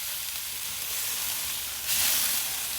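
Kansas City strip steaks sizzle steadily on an Oklahoma Joe's Blackjack grill, a continuous bright hiss that swells louder for a moment near the end, as if meat is moved, with no talking.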